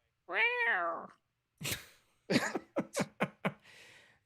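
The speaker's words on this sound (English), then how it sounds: "We got the kitty cat in the room now. Hello, kitty cat." A house cat named Duchess gives one drawn-out meow, then a short series of quick chirping sounds, close by in a quiet room with no talk.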